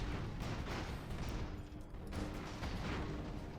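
Airship bombing in Airships: Conquer the Skies sounds as a continuous rumbling barrage of dull explosions and gunfire, dense and rough throughout, quiet in level, with no talk over it.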